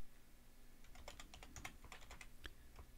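Rapid keystrokes on a computer keyboard, a dense run of close, crisp clicks with steady faint background hum, no voices.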